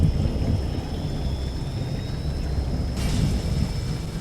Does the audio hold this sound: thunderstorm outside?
yes